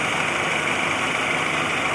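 The turbocharged engine of a 1980 Buick Regal Turbo Sport Coupe runs steadily and loudly, close by, with a constant whine and rumble and no voices.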